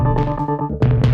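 A brief burst of a Chase Bliss and Empress Reverse Mode C guitar pedal gives reversed notes that swell and throb, loud and close, with a short dip before a final swell and no talk.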